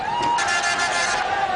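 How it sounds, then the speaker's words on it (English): A cricket stadium crowd cheering as Sourav Ganguly reaches his half-century against New Zealand in 1998, a loud sustained roar with whistles and whoops over steady crowd noise. "a big sigh of relief and a big cheer for Ganguly, who's brought up his half-century"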